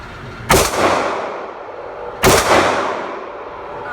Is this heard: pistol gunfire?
yes